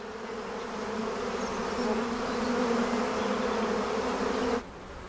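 Mountain bees swarming out of an overcrowded hive in the Cantabrian Mountains make a dense, steady buzzing drone that holds loud and close for several seconds, then drops off abruptly near the end.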